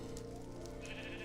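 Sheep bleating in the video game Minecraft, a single sustained nasal bleat over dense, continuous game noise with no pause.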